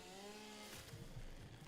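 Video game chainsaw cutting trees: a quiet, buzzing motor whine that drops into a rougher, choppy grinding as the blade bites, heard alone and fairly faint.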